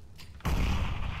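A molotov lands in a competitive video game shooter match: after a faint start, a sudden loud burst of fiery, crackling whoosh erupts and roars on steadily to the end, with no talk.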